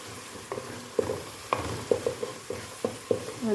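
Chopped onions fry in a pan while a utensil stirs them, giving a string of sharp scraping clicks roughly every half second over a quiet, steady sizzle, close by and with no talk, during the making of an Ethiopian split-pea alicha.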